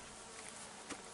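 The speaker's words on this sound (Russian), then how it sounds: "Мухи быстро налетают." Flies buzzing around an outdoor homemade smokehouse, a steady close insect drone with one brief louder pass near the end.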